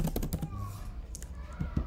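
Keys clatter on a computer keyboard as a number is entered, a quick run of close taps at the start, then a lull with a couple of further clicks near the end.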